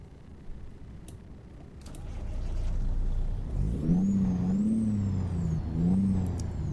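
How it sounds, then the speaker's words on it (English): A Caterpillar 3406 diesel engine in a simulated truck revs up from idle, building into a loud, sustained mid-pitched roar with rising and falling throttle swells and a brief air hiss. "We have the 3406, which is definitely going to sound different."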